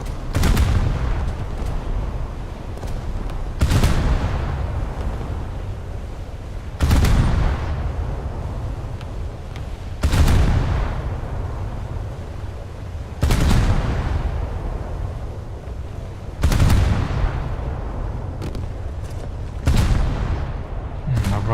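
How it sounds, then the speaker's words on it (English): Heavy naval gun salvos fired at a Gearing destroyer in a naval combat game, booming reports spaced roughly every three seconds, each with a long rumbling decay, seven blasts in all. "Let's shoot at this gearing instead."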